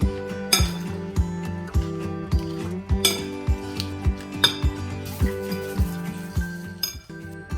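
Salad vegetables for a halloumi salad being mixed in a bowl, producing repeated bright clinks and taps of a utensil against the dish in an uneven rhythm, close and clear, with no talking.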